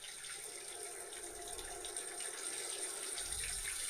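Cold water runs steadily from a tap, a soft, even hiss of flow with no talk over it.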